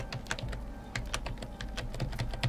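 Steady, rapid clatter of keys on a computer keyboard, a dense run of sharp close clicks with a few heavier key strikes, with no voices.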